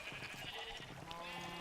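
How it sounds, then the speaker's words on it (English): Sheep in the video game Minecraft bleat a few times, quiet and slightly distant, over a soft steady game background with no talk. "So we have some sheep"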